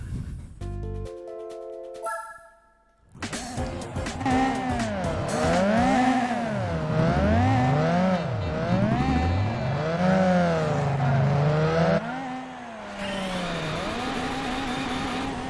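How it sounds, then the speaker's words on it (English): A four-wheel-drive race car in Gran Turismo 4 grinds along the wall of an ice arena, its engine revving and wavering loudly up and down after a short musical jingle, with tire noise underneath. "This is where we are going to cheat. We are going to wall ride on this one."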